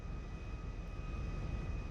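A steady, low drone of the Luxor plane's engine in GTA V, a constant even hum heard from the cabin in first person, moderately quiet and unbroken, with no talking.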